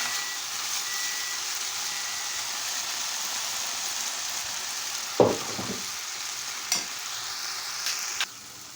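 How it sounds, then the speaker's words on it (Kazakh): Garlic fries in a hot pan with a steady loud sizzle throughout, broken near the end by a few sharp clinks of stirring. "сарымсақтарымызды бәрін қосып жақсылап қуырамыз"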